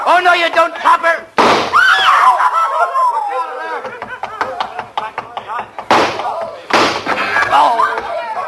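Sharp gunshot bursts in an old-time radio suspense drama, loud and close, cracking between tense dialogue and shouting of the performers, with several abrupt impulsive hits spread across the scene.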